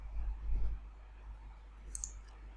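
A single computer mouse click ending a process, a short sharp tick standing out against a low steady hum, with a faint thump earlier and no talking.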